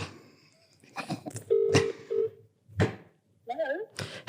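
A telephone number is dialed for a prank call, with a few short beeping tones and warbling signal sounds mixed among thumps and brief bits of nearby talk.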